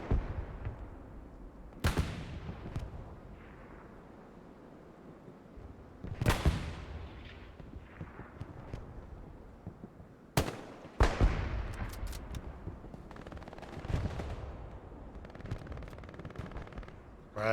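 Gunshots ring out during a competitive online shooter match, with several sharp, loud cracks spaced seconds apart, each with a decaying echo, and scattered quieter shots and clatter in between.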